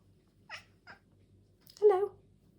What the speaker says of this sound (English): My little baby Sasha, my little ninja cat